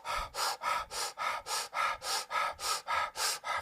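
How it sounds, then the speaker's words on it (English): Rapid rhythmic yoga breath of fire, about a dozen gentle forceful exhalations in a steady, even pulse, close to the mic with no talking. "Now let's charge it up one more time with a gentle fire breath"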